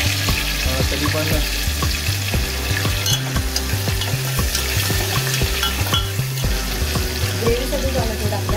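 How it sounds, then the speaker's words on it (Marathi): Tomato and onion frying in a pan for the gravy of a Konkani jackfruit-seed curry, a loud, dense sizzle running throughout with a steady low rhythmic hum beneath it. "ग्रेव्हीसाठी टोमॅटो टाकलाय, कांदा टाकून घेते।"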